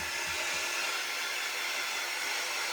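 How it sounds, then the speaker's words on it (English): A loud handheld craft dryer blows steadily over inked cardboard banner lettering, a continuous close airy whoosh that holds even from start to finish. "Ever since I've been using that quiet dryer, this one is so loud."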